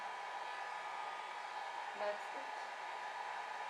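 Hair dryer blowing steadily on an alcohol ink flower painting, a constant close whoosh throughout, with a brief spoken remark over it.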